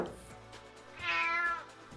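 A cat gives a drawn-out, clear meow, close and fairly loud, preceded by a fainter short cry.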